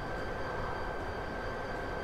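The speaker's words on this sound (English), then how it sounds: "Hey look, it's a train." Steady rumbling train passing in Train Simulator 2018 on the Medway Valley Line, a Class 59 locomotive, with continuous broadband roar and a faint steady whine, no talk.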